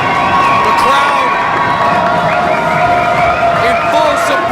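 A wrestling crowd at a Toronto professional wrestling show cheers and shouts loudly and steadily throughout, a dense roar of voices with higher whoops and children's yells rising above it.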